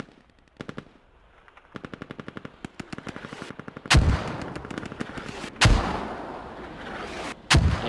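30 mm cannon fire in a tactical shooter video game: rapid strings of sharp shots ripple in bursts, then three heavy, booming impacts land loud and close, each trailing into a rumbling decay.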